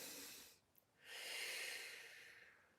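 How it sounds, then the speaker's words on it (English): Deep breathing during a heart yoga session: a long, hissing exhale, a brief pause, then a slow, full inhale through the nose, close and quiet. "Take 2 deep breaths."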